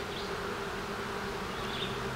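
Honeybees buzz steadily in an open, queenless hive, a dense, continuous drone close up with no pauses and no talking.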